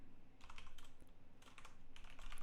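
Keys clatter on a computer keyboard during live JavaScript coding, soft close clicks coming in quick uneven bursts with short pauses between runs.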